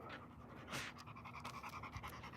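A tired dog pants steadily on a walk, quick rhythmic breaths close by and fairly loud, alone without talk.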